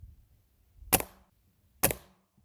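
Two sharp, loud shots from an air gun firing modified pellets, spaced about a second apart, each followed by a short decaying ring over a quiet background.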